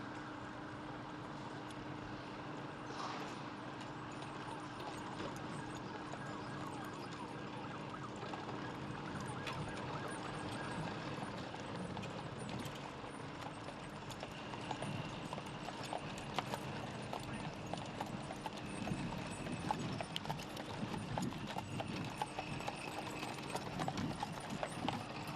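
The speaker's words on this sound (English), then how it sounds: "the casket of Officer Familia was just put onto this horse-drawn carriage" Horse hooves clip-clop on pavement as a horse-drawn carriage bears the casket of a Worcester police officer in a funeral procession, steady and continuous under a broad outdoor crowd hum with distant siren-like tones.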